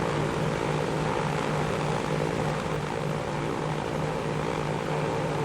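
Douglas DC3 twin propeller engines roar at full throttle in the Transport Fever game, a loud, constant droning hum with a steady low throb and no pauses.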